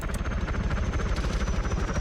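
An Apache helicopter in Arma 3, its engine and rotor making a loud, steady, rapid chopping thrum that pulses evenly throughout, with no voices over it.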